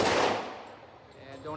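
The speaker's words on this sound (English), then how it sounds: "And don't anticipate the shot" A single loud gunshot cracks at a shooting range, hitting hard at once and then trailing off in a long, echoing decay.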